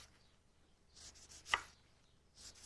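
A sharp knife slicing through half a lemon on a board, one crisp cut landing sharply amid faint soft rustles, with no talking.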